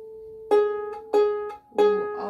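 An out-of-tune fiddle's A string, played flat, sounds in three bowed strokes, each a sustained harmonic-rich tone with a sharp onset, evenly spaced and close, with no talking.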